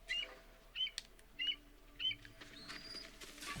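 Bird in the game Ghost of Tsushima squawks and chirps in four short separated bursts over a faint ambient bed, fairly close and moderately loud, with no talking.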